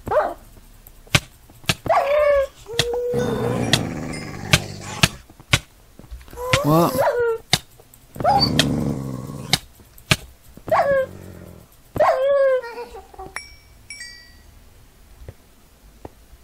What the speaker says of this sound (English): Why are so many evil dogs here?